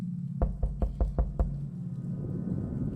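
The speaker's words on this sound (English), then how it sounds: "Mickey knocked on the door." Six sharp knocks on a door in quick, slightly uneven succession at night, moderately close, followed by a low room hum with no voices.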